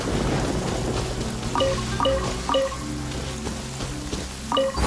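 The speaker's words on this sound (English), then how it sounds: "Lightning everywhere." Stormy weather in the video game Genshin Impact, a steady hiss of rain with low rumbling thunder beneath and short tonal in-game chimes recurring, all fairly loud.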